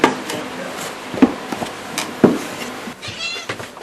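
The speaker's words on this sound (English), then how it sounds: "Tudy the Studio Cat." Tudy, a studio cat, gives a few short meows close by in a quiet room, with light knocks and faint background noise between the calls.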